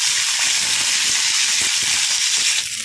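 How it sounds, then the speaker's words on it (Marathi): Green chillies and garlic roast in oil on a hot griddle, giving a steady, loud sizzling hiss that runs unbroken throughout, with no talk over it. "यामध्ये आता मिरच्या आणि लसूण घेते भाजून"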